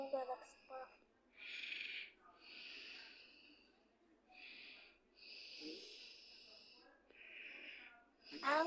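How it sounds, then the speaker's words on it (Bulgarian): A person snores in slow, rasping breaths, several long snorting inhales spaced evenly and heard up close in a quiet room, with brief voices at the start and end. "Ало, спри да хъркаш."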